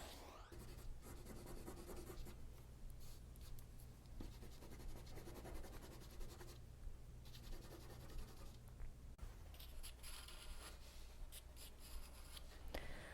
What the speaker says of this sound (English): I'm drawing lightly with this tool.